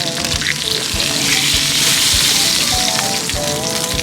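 Steak and butter fry on a Blackstone griddle outdoors in the woods, giving a loud, continuous crackling sizzle with scattered sharp pops and faint scraping of a utensil while basting, no talking.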